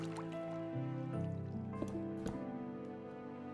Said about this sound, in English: this water's flowing from somewhere